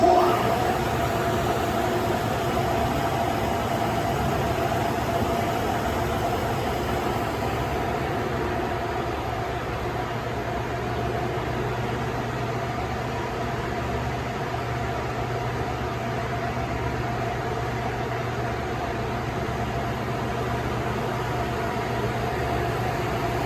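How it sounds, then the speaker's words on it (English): A small electric motor drives a mill's line shaft and two big wheels inside the Belknap Mill. It gives a steady, dense mechanical hum and whir that holds unbroken throughout, with a faint tonal drone and no voices. "this small motor that we now have our big wheels connected to"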